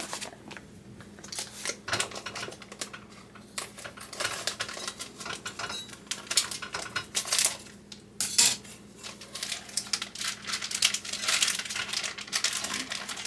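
A utensil scrapes and clanks against a pan while breaking up defrosted ground hamburger meat, with steady close-up metallic scraping and tapping and no voices.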